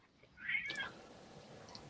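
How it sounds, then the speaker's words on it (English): A single cat meow rises at close range, briefly and clearly, against a quiet indoor background with a soft hiss afterward. "Claudia, did you come in with a cat? Was that your cat?"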